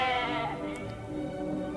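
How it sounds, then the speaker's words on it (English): A sheep gives a single drawn-out bleat that wavers and falls in pitch, moderately loud and heard alone with no talking. ""Bah! Bah! Bah!" replied the sheep."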